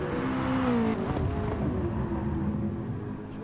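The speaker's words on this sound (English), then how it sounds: "you can really hear the tortured tyres as they make their way through GR Supra corner" Race car tyres straining and squealing through GR Supra corner at Fuji Speedway during a two-hour qualifying session, a loud sustained tonal whine over steady engine roar, fading slightly toward the end.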